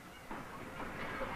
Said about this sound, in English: As they depart on a 2-day train ride to the city of Chengdu